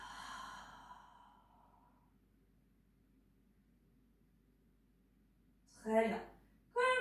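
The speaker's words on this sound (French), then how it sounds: "Expire." A slow, audible breath out fades away during a floor Pilates exercise for the lower back and abdominals, followed by quiet and then someone speaking close by.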